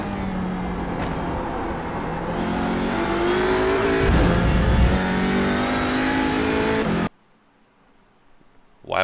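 A TCR race car engine at full throttle around Sonoma in a racing video game, a loud, close harmonic drone climbing and holding pitch for about seven seconds before cutting abruptly to near silence, with no talking.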